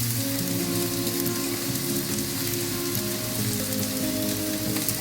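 Strips of bacon sizzle and crackle steadily in a frying pan during a quick weekend breakfast, a dense continuous spatter of hot fat with no voices.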